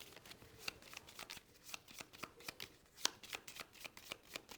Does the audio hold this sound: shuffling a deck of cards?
yes